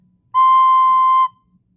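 A recorder sounds a single steady note C, held clean and sustained for about a second, played alone and close.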